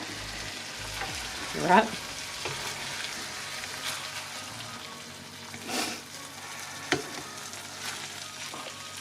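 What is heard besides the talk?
stirring rice sizzling in a frying pan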